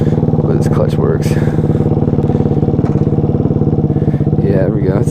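A Daytona FE 190cc four-valve engine in a Grom clone motorcycle runs steadily on a first ride, a loud, close, throbbing single-cylinder putter with rapid even firing pulses, a few revving swells and rattling clatter throughout.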